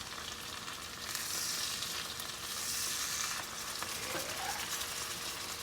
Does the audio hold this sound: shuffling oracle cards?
no